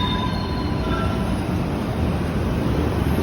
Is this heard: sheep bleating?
no